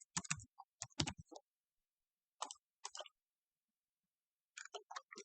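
Keystrokes on a computer keyboard, a quick cluster of crisp clicks, then a short pair, then another brief run after a pause, close and quiet in an otherwise silent room.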